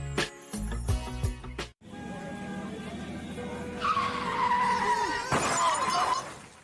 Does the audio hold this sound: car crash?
yes